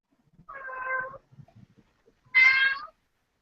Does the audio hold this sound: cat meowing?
yes